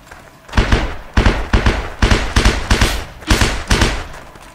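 Running footsteps in a video game with sound occlusion thump out as a steady run of heavy, evenly spaced impacts, loud and close, about seven or eight strides in quick succession.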